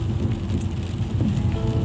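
Steady rain drums on a car while driving, a continuous dense patter over low road and engine rumble with no pauses.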